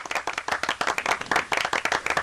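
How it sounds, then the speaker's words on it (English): A short burst of studio audience applause on a radio talk show, brisk overlapping hand claps that rise and continue steadily for a couple of seconds, close and fairly loud. "Round of applause for Rob, please."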